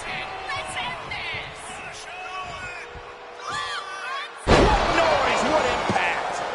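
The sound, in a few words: wrestling slam impact in WWE 2K25 video game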